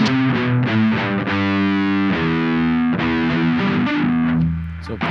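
Electric guitar with heavy distortion sounding an open A string, struck several times in a row, each note ringing out thick and sustained, loud and close with no voices.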